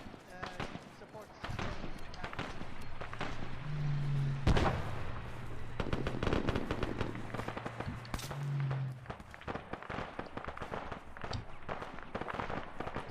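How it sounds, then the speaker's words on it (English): Gunfire during an attack in Iraq comes from the right as a series of sharp cracks and bursts, some close and loud, with a few isolated pops. Voices talk over and between the shots. "Taking shots from the right as well."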